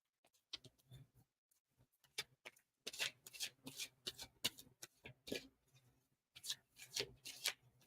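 A deck of playing cards is shuffled by hand in a quiet room, giving bursts of riffling and snapping flutters broken by short pauses, close and clear with no talking.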